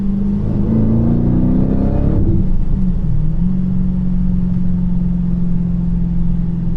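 A car's 426 Hemi V8 with a Whipple supercharger idles steadily and loud, a low droning rumble that dips briefly and then settles into an even, level hum.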